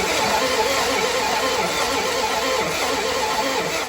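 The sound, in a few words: 1970 Dodge Dart Swinger engine cranking after adding Marvel oil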